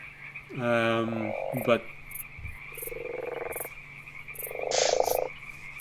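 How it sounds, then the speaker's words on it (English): A bullfrog croaks in several deep, loud bursts over a steady background hum, with a spoken word slipping in between the calls. "There's gonna be a bullfrog somewhere in there."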